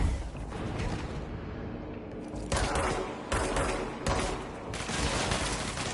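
Rapid automatic gunfire in the video game Control, dense sustained bursts near and loud, broken by short pauses between volleys, with heavy thuds mixed in.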